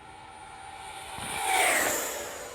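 An FMS Futura V2 80mm EDF model jet makes a fast pass down the runway at full speed, its ducted-fan whine swelling as it nears, peaking, then easing off, heard alone outdoors.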